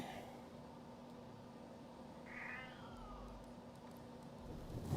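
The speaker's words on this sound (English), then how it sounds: "What my cat talking about?" A house cat lets out a single drawn-out meow partway through, moderately close and fairly soft over a steady background hum, with no talking.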